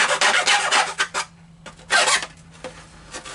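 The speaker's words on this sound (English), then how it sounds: "invest in these small jeweler files" Small jeweler's file rasping on a metal part for a Deans Marine SS Mellenie model ship kit, with several bursts of close scraping strokes separated by brief pauses.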